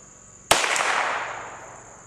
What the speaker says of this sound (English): And that was the last shot.